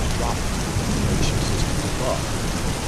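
Steady, dense rain falls without pause, a full hiss of drops on surfaces with a faint low rumble beneath.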